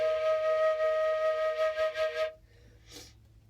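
A woodwind instrument holds a steady, clear E flat for a little over two seconds with a gently wavering tone, then stops, followed by a short breathy puff.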